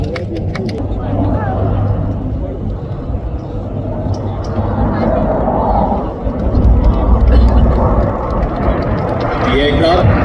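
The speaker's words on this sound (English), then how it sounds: "super Hercules विमान ने अपनी अपार शक्ति से सबको मंत्रमुग्ध कर दिया है" A Lockheed C-130 Super Hercules military transport aircraft at an Indian Air Force firepower demonstration in Pokhran gives a steady, loud low engine roar that holds throughout, with voices talking over it.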